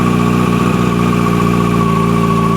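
A motorcycle engine, loud and close, holds a steady idle-like drone that sags slightly as the clutch is slowly let out, with no talking.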